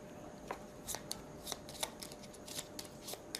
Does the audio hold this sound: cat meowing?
no